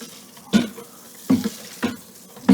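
A paddle stirs Carapils, flaked malt and rice hulls into a brewing mash, making four distinct wet scraping sweeps at irregular intervals, close and fairly loud, with no voices.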